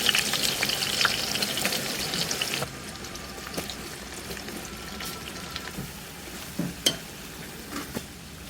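Half a kilo of onions sizzles and fries in a pan for a desi chicken curry, louder at first and then a quieter steady crackle with occasional clinks and stirring.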